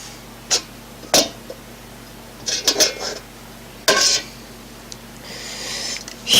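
Homemade shampoo base is mixed in a container, with a utensil knocking and scraping against the sides in irregular, sharp clinks and short scrapes, then a softer, longer swishing stir.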